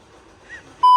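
A loud, steady censor beep tone cuts in abruptly near the end, after a brief stretch of quiet, faint background.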